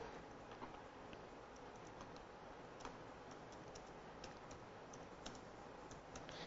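Keys on a computer keyboard click in a steady, irregular patter while typing in Notepad, faint beneath a constant hiss of background noise.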